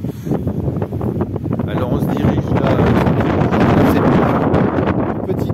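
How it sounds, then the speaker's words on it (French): Strong outdoor wind buffeting the microphone in a steady, loud roar that grows heavier midway, with someone speaking French over it. "C'est assez désagréable d'évoluer sous ce vent."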